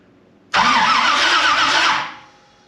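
A starter motor cranks a built Pontiac 455 V8 in a Firebird, a loud, steady churning whir with a rhythmic wobble that runs about a second and a half and then winds down, heard alone and close.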